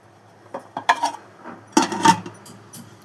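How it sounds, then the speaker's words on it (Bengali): Rice being served onto a plate with utensils for a Bengali lunch, heard as a few scattered clinks and scrapes of a spoon against dishware, close and fairly quiet, with no talking. "প্রথমে এখানে আমি ভাতটা গুছিয়ে নিচ্ছি।"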